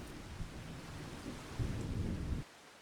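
Rain falling on a farm with low rumbling thunder, a faint, continuous wash of noise with a deeper rumble swelling near the end before cutting off, no voices.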